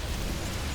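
Psionic storm crackling over units in a StarCraft 2 Terran versus Protoss match, a steady dense hiss and rumble like heavy rain, loud and continuous through the short moment.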